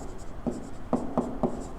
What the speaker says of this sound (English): So I'm going to write it smaller.